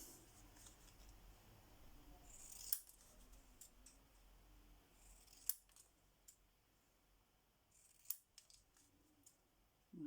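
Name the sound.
cutting with scissors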